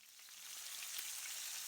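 Meatballs frying and browning in a pan give a steady, faint sizzle with no talking.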